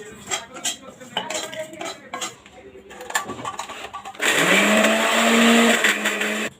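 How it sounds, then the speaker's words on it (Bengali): Bread blended in a kitchen blender for chicken kebab: after dish clinks and a person talking, the motor whirs up loudly and runs steadily for about two seconds before stopping. "এটা আমি ব্লেন্ড করে নেব।"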